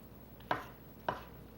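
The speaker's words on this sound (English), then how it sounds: "I'm going to chop them like that." Peaches being chopped with a knife: two sharp, quiet chops about half a second apart, each with a brief ringing tail, over a faint steady background.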